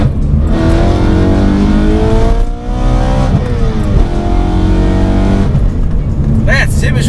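A BMW M3 engine revs loud and close, climbing and falling through repeated acceleration runs, with a steady heavy roar and rising harmonic sweeps and a brief dip midway.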